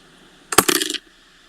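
Handful of dice tossed for a tabletop role-playing battle game, a single short clattering burst of plastic tumbling and rattling for about half a second, close and fairly loud, then quiet.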